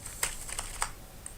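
Typing on a computer keyboard into MS Word, a short burst of a few light, crisp key clicks at an uneven pace, close and fairly quiet over a low background hum.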